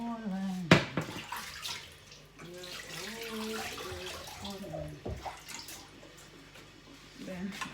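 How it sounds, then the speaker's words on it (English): Running water splashes from a tap while a plantain is washed under it, with irregular splashes and a voice talking over the flow. "Okay, let me wash it."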